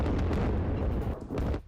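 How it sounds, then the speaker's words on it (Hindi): Explosions from US Air Force bombing of an Iranian ballistic missile launcher, a continuous heavy rumbling roar with repeated booming bursts, loud and dense throughout before easing off at the end. "अमेरिकी एयरफोर्स ने बमबारी की"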